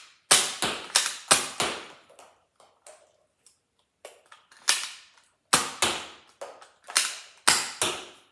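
A Nerf Elite 2.0 Prospect QS-4 blaster fires darts: sharp, loud snapping shots in quick clusters, each followed by a fading mechanical rattle, with faint clicks and priming noises in the gaps between volleys.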